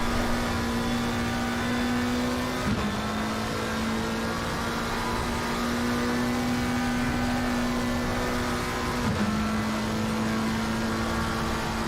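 A Ferrari race car engine in a racing simulator game holds a steady, buzzing high-rev drone, dipping briefly twice as if shifting gears, constant and loud with no talk.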